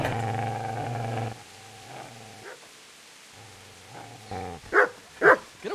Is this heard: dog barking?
yes